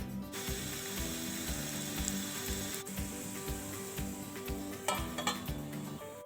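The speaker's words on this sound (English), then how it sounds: "We are going to roast it on medium flame. We have to apply oil on both sides while roasting." Multigrain thalipeeth roasts in oil in a pan over a medium flame, with a continuous close sizzle and crackle running steadily throughout, unbroken by speech.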